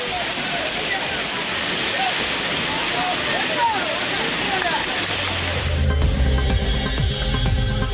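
Courtallam waterfalls pouring heavily as tourists bathe, a dense continuous roar of falling water filling the whole stretch, shifting to a rougher, lower churn near the end.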